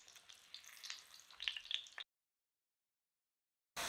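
Bread fries in a pan over low heat, giving a soft, faint sizzle with light crackles that grows slightly busier, then cuts off abruptly into silence before briefly returning at the end.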